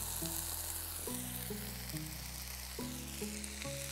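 Curry leaves crackle and sizzle in hot oil for ghee roast chicken, a dense continuous spitting hiss with a few soft stirring knocks, close and alone.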